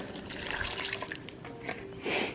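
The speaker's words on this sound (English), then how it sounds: "Pour that over the steak and the onions." Marinade poured over steak and onions for carne asada, a wet splashing pour that swells near the end, close and fairly loud with no talk.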